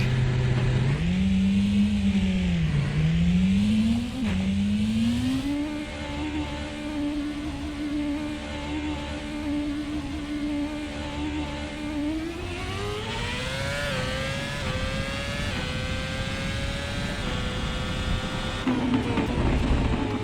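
A Renault-powered open-wheel race car in Assetto Corsa drones continuously, its engine note climbing and dipping through gear changes and rising steadily under acceleration, with no talking.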